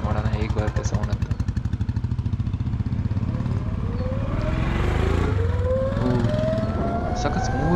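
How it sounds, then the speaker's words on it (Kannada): A Royal Enfield motorcycle engine runs nearby with a steady, rapid thumping throb, while a rising whine from another passing vehicle sweeps upward over it. "ಇವಾಗ ಬರ್ತಿರೋ ಸೌಂಡ್ ಬಂದು ರಾಯಲ್ ಎನ್ಫೀಲ್ಡು ಏಥರ್ದಲ್ಲ"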